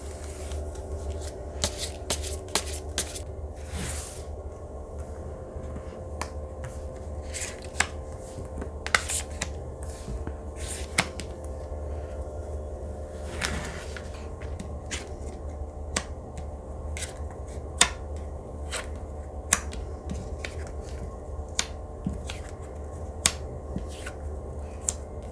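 Tarot cards being shuffled in repeated riffling bursts and snaps over a steady low hum of background noise, close and moderately loud, with no talk.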